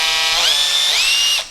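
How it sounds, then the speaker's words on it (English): A cordless impact wrench with a variable speed trigger whines loudly and close, its motor pitch climbing in two steps as the trigger is squeezed further, then cutting off after about a second and a half. "As I said, it is an impact wrench."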